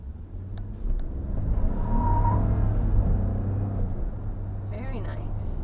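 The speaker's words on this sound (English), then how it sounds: "I can show you that it does have decent pickup even in eco mode" A 2018 Ford F-150 pickup in eco mode speeds up along a straight road with a steady, fairly loud engine drone and road rumble, the pitch climbing gradually, with a voice talking over it.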